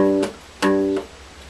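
Three G notes on a melodic instrument, each a short bright attack with ringing tone; the first two are struck firmly and the final one comes later and softer, close and alone.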